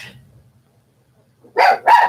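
A dog lets out two loud, close barks in quick succession after a near-silent pause, with a faint low murmur at the start.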